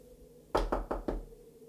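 Four firm knocks on a door, evenly spaced and close, standing alone against a quiet room background.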